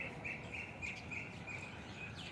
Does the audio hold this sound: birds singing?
yes